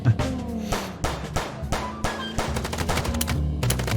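Rapid bursts of automatic gunfire from a first-person shootout in the video game Chicken Police, dense and continuous with overlapping shots throughout, set against a steady game soundtrack.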